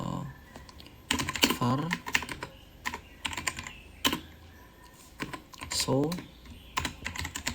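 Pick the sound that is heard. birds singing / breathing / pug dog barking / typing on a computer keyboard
typing on a computer keyboard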